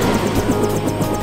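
A helicopter in the game Deus Ex drones loudly and steadily, with a rapid rotor chop pulsing through a continuous engine roar, close and unbroken for the whole moment.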